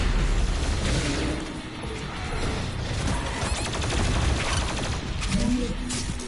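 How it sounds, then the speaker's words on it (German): Loud, continuous shooter-game chaos from DOOM Eternal: rapid plasma gun fire and grenade blasts blend into a dense mechanical rattle and booming wash with no pause, close and saturated. "ich baller jetzt einfach irgendwo drauf"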